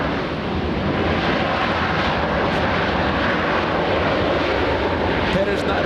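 Aircraft engine roar from Air Force One landing at LAX, a loud steady broadband rumble that holds at full strength throughout, with a voice faintly heard over it.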